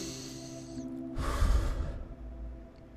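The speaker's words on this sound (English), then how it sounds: "just take a deep breath with me" A single deep breath, drawn in and let out slowly through the nose and mouth, close and fairly loud, standing alone after a soft background hum.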